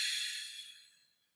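Soft breathy exhale through the mouth during a restorative yoga session, a single airy hiss that starts close and fades away over about a second, no voices.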